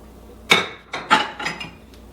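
A ceramic bowl taken out and set down for plating, a few clinking knocks and scraping contacts of dishware over about a second and a half, close and clear with no speech.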